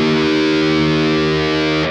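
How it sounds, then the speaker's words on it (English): A single low E string on a distorted electric guitar tuned a half step down rings out loud and sustained, a steady buzzing drone with no talk, cutting off near the end. "you want to tune to a half step down tuning. That means your E string is going to sound something like this"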